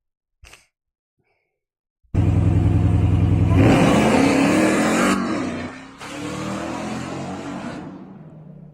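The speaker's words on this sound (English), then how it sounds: "I don't really know why you'd want a pickup truck to go that fast when you're just driving in residential roads" A pickup truck accelerates hard along residential roads, its engine roaring loud and close in a sustained surge, rising in pitch, then easing briefly before pulling again; a short faint knock comes first and no one speaks.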